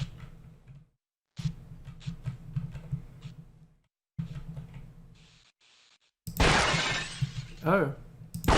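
Glass objects shattering in a video game: scattered clinks and breaks give way to a loud, bright burst of shattering near the end, with a voice talking between the crashes.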